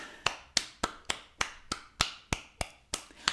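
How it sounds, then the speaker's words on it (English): Sharp claps repeat at a steady, even pace, about three per second, close and crisp with no talk over them. "That's why I'm clapping."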